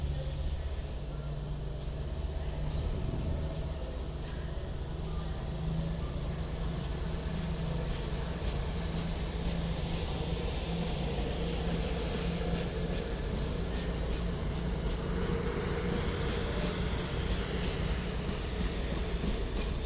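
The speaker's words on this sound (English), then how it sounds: "And 222-002 is now departing with her service to Stepford." British Rail Class 222 diesel unit 222-002 pulling out of Crewe station, a steady engine drone and rolling rumble with repeated wheel clicks over rail joints, continuous and fairly close.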